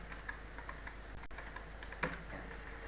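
Typing on a computer keyboard while entering text into an Excel spreadsheet, a quiet irregular run of light key clicks with one sharper tap near the end, close-up over faint background hiss, no talking.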